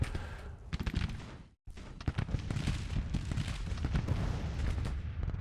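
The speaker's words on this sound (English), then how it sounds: "24-pounder howitzers, we should be able to lob over on top relatively effectively." Howitzer bombardment from 24-pounder guns in the Civil War strategy game Grand Tactician, a dense, continuous roll of booming artillery blasts and crackling impacts, broken by a brief silent gap partway through.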